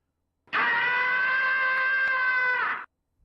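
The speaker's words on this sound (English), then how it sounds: "Add the actual Tom and Jerry scream to your stream deck." The cartoon Tom and Jerry scream sound effect, one loud, sustained, shrill yowl held for about two seconds, then cut off sharply, with silence before and after.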